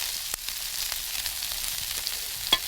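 Tofu and tempeh steaks sizzle in sesame oil in a pan, a steady quiet hiss with a few small pops and a sharper crackle near the end, no voices.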